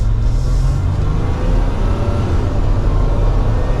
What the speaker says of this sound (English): let's give it a little bit more gas here